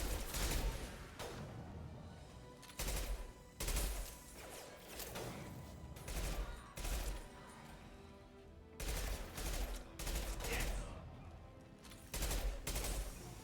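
Repeated bursts of heavy gunfire in the video game Mass Effect 2, loud and close, coming in clustered volleys with brief gaps between them.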